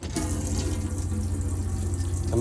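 Cold water runs steadily from a motorhome tap in a 2018 AutoTrail Tracker, a continuous close hiss and splash with a low pump hum underneath, no voices.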